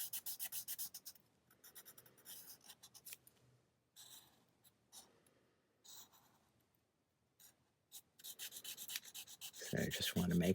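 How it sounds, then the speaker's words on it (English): Pen strokes scratching across paper while drawing a pattern of X's for a mixed-media stencil, coming in short bursts of rubbing with pauses between them, then a louder, denser scratching run at the end. "So I just want to make X's, draw my pattern underneath."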